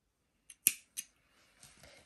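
Scissors cut crochet yarn with a few quick, crisp snips close by, followed by faint soft rustling in a quiet room.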